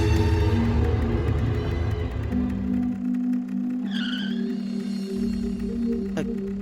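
A car brakes toward a stop at a turn: an engine rumble carries a steady tone while brief tire squeals and skid chirps rise midway, all fairly close and without talk.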